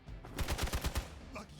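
Gunfire in Marvel's Midnight Suns: a quick rattling run of about six shots in under a second, fairly faint, followed by a short tail.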